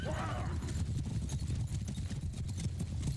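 Horses of horse archers gallop in the battle game Mount & Blade II: Bannerlord, a dense steady drumming of many hooves running throughout, with a brief whinny near the start and faint voices underneath.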